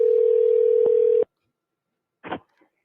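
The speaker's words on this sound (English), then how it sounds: "And call that person back." A phone sounds a steady dialing tone for about a second before cutting off, followed by a short burst of keypad or handset noise.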